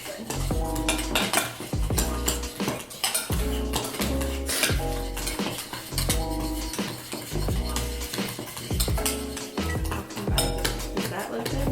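Cookie dough is stirred in a bowl with steady, repeated scraping and clinking of a spoon against the bowl, close and fairly loud, with no talking.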